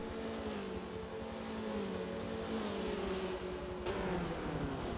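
Race car engines in the Forza video game during a spec racing series, a loud continuous engine drone with shifting pitch as the car accelerates on board, plus a brief gear-change blip near the end.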